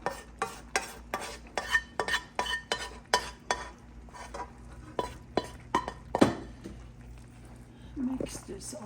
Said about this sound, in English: Mix this all very well.